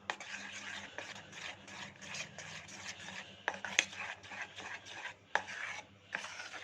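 Semolina cake batter with dry fruits and nolen gur being mixed in a bowl, heard as soft, fairly quiet repeated scraping and stirring strokes in an irregular rhythm, with no talk.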